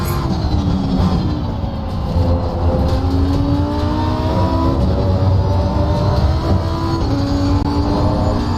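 A race car engine at Spa in the sim racing game Assetto Corsa Competizione drones loudly and continuously, its pitch climbing and dropping through gear changes as the car brakes and slides through corners, with no voices over it.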